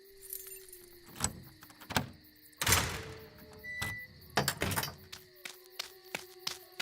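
A ring of keys jangles and clinks in several short bursts amid thunks and a heavy door sliding in an old mining magazine used to store dynamite behind a jail door, close and fairly loud with no talk.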